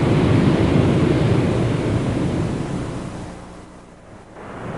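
Sea waves break and wash against seaside cliffs in San Diego, California, a loud, steady roar of surf that fades and ebbs toward the end, with wind rumbling over it.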